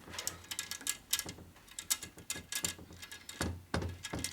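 Spoke nipples being tightened with a wrench on a 21-inch Harley spool hub front wheel, giving a string of close, quiet metallic clicks and ratcheting ticks in irregular bursts, with no talking.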